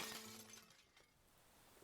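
Bulletproof glass window shattering under a chair blow: a loud crash with bright splintering at the start, then fragments tinkling and settling into fainter debris over the next second or so.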